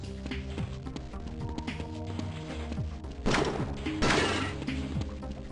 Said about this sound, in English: shooting the glass is perfect